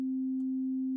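A single steady synthesizer note C sounds as a pure, smooth tone, held at constant volume for about a second with no other sounds.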